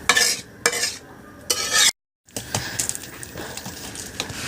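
Chicken roast cooked with milk and yogurt simmering in a pan, giving a steady close bubbling hiss with several louder stirring scrapes, broken by a brief silent gap.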